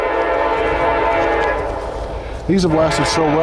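A train passes nearby with a steady rumble of rail cars, and a loud horn blasts near the end, while someone talks over it.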